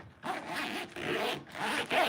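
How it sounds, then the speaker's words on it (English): A zipper on a fishing plug bag pouch is pulled open in three quick runs, each a close, steady rasp broken by short pauses, with no voices. "he's got a zipper over here"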